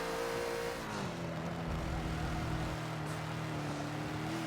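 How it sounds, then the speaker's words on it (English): Bentley GT3 race car in a Forza racing game braking hard into a hairpin at Catalunya, a steady loud engine drone dropping in pitch as it slows, then settling into a lower sustained hum. "A bit better braking for that hairpin."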